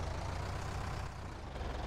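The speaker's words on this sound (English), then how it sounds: "I need to turn the tractor sound down" Tractor in Farming Simulator 19, a constant low engine rumble idling faintly and evenly with no other sounds.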